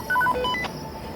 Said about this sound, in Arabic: ايه ده في حد بيرن.